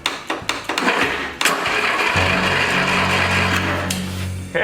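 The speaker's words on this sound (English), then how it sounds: "That starter sounds like it needs a little lubrication." A lawn mower tow vehicle's starter cranks in several short, rough bursts before the engine catches and settles into a loud, steady idle close by.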